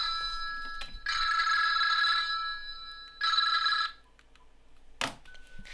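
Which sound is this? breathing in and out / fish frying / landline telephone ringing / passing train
landline telephone ringing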